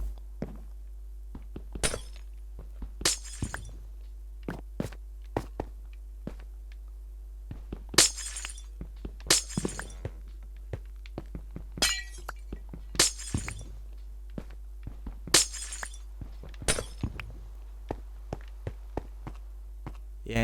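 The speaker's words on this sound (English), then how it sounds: "I'll just take out all of these glass planes" Glass panes shattering in Minecraft, roughly a dozen sharp crisp breaks spaced irregularly over a steady low hum, each a bright brief crash with a few softer clinks and taps between them.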